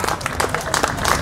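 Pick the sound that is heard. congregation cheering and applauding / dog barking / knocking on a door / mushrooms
congregation cheering and applauding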